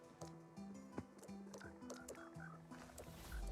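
Minecraft frogs croak in a busy chorus of low, repeated calls, overlapping one another in quick irregular bursts alongside soft game noises, fairly faint and without talk.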